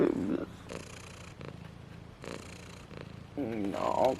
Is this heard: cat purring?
yes